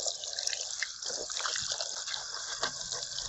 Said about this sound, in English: So now we are just going to wash this off.